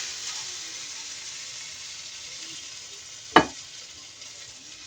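A steak frying in a pan sends up a steady, soft hiss and crackle, broken by one sharp clack partway through, with no talking.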